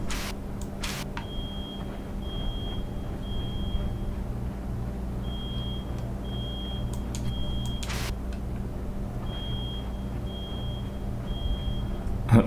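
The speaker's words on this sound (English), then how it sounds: "Somebody's fire alarm is going off, or smoke detector." A smoke detector alarm chirps in a video game, giving a steady train of short, high electronic beeps at an even rhythm throughout, moderately distant, over a low hum and occasional clicks.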